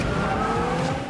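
Racing car from the mobile game Asphalt 8, its engine droning steadily with tire skidding and squeal throughout one brief, loud, close burst with no talk.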